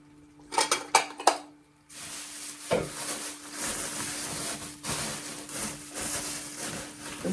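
Ceramic cereal bowls and side plates clink and knock together as they are handled, several sharp clatters first, then a steady rustling shuffle of crockery with further soft knocks close by.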